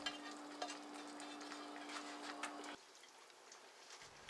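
Bite-sized pork chunks tumbling into a pot for pork and sauerkraut, followed by soft stirring and faint sizzling and liquid sounds, a low hum cutting out midway, close and quiet with no talking.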